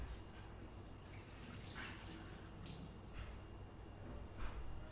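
Soaking water from peeled, sliced potatoes poured away, a quiet continuous trickle and splash with small drips, close and faint.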